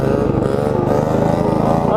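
Apollo RFZ Chinese dirt bike engine revving hard during a wheelie attempt, a close, loud, buzzing single-cylinder drone held steady for a couple of seconds with a slight pitch rise at the end.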